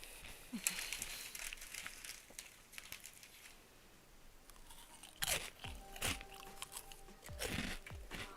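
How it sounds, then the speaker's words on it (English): A snack is crunched and chewed close by in uneven bursts of crisp bites, with crinkling and a few quiet thuds between them. "my crunching is the noise we need for this"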